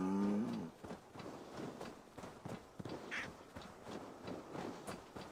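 A cow in the Viking game Assassin's Creed Valhalla gives a brief low moo at the start, followed by quieter rustling ambient game sounds and a faint bird-like call, fairly soft overall.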